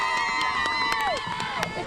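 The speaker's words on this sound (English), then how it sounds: "It is going to be a packed crowd in here tonight." Crowd murmur and cheering fill a packed high school basketball arena before the Rogers versus Cheney Railroad Rumble game, with a steady din of voices, scattered shouts and sneaker squeaks, a whistle-like tone sliding down in the middle.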